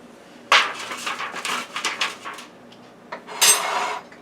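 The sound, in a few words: food moved around in a pan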